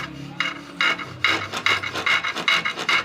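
A sewing machine part oiled in its bore and run back and forth to polish it, giving a dry repeated rasping scrape in quick strokes, close and steady.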